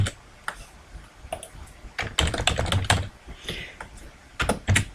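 Fingers type on a computer keyboard in quick, uneven bursts of close, crisp key clicks with brief pauses between them.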